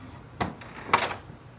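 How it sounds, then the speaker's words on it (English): An HP Smart Tank 7300 printer door is pressed down and shut, giving two quick plastic clunks, a light one followed by a louder snap, close by in a quiet room. "Now press the door down and close this door."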